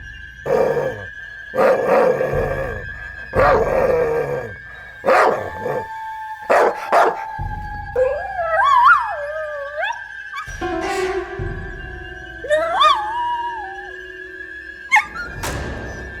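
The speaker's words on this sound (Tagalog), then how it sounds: "Narinig ni Mang Ramon ang malalim na hilanghing ng mga aso mula sa kagubatan" Dogs bark in sharp bursts, then break into wavering howls and whimpers, loud and fairly close, over a steady high-pitched tone.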